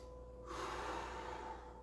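One long, close breath, a soft airy exhale that swells after a moment of quiet and fades out slowly, heard during an online dojo fitness class with no talking.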